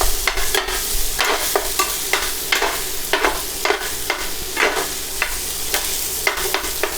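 Cheesesteak meat and onions sizzle steadily on a hot griddle, a loud continuous crackle broken by frequent scraping and stirring strokes, close up with no talking.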